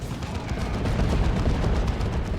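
Vengeance rounds fire in a Dawn of War 2: Retribution battle, a dense, steady roar of heavy gunfire and blasts that stays loud and unbroken throughout.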